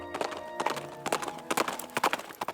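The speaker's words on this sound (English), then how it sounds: "the ever-present clip-clop of those horse-drawn" Horse-drawn carriages clip-clop across the medieval market square in Bruges, with a steady rhythm of crisp hoof strikes on stone, fairly close and clear, with faint background chatter.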